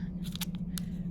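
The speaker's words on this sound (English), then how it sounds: "you're going to take your scissors and you're going to start" Scissors snip through folded fabric while a beginner's sleeve pattern is cut, a few quick, crisp cuts over a low steady hum.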